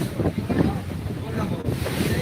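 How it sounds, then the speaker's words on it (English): Strong wind buffets a boat with a dull, steady low rush and gusting roar, about 20 knots over whitecapped water as it heads into the port of Lucena, Philippines; no talk. "Wind's blowing about 20 knots."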